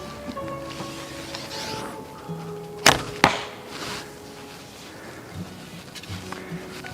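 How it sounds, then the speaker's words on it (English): Arrows rattle against the riser of a handmade longbow or recurve: two sharp, close clattering knocks a moment apart stand out against a quiet outdoor background, with no speech. "You can hear the other arrows rattling off of the riser."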